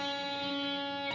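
Electric guitar note fretted at the third fret of the B string, picked once and sustaining clearly on its own, with a fresh pick attack just at the end.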